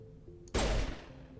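A single loud burst of in-game gunfire from Mass Effect, a sharp close crack with a short decaying tail over quiet background hum.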